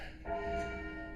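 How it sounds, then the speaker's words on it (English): Black Tom, a large church bell as heavy as a small car, rung by pulling a rope: a single deep, resonant strike that swells and then hangs in a long steady hum, with no talking. "it's not just any bell. Black Tom weighs as much as a Mini Cooper"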